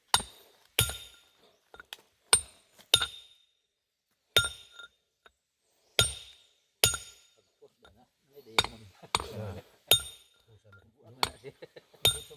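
A bayong-shaped stone being struck and broken, sharp ringing clinks of hard impacts repeated irregularly about a dozen times, close and clear, with brief low voices between some strikes.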